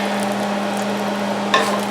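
Bacon sizzles and crackles steadily in a hot pan on the stove, a close, continuous frying hiss under a low hum, with one sharper pop near the end.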